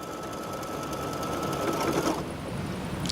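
An embroidery machine stitches a zippered bag in the hoop, a dense steady mechanical whir with rapid needle chatter, constant and close throughout, ending with a slight change in tone.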